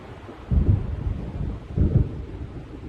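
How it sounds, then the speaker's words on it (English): Two deep rumbling thunder rolls from an approaching storm in the Alan Wake video game, each swelling and fading over a steady low background of rain and wind, with no voices. "The storm is almost here."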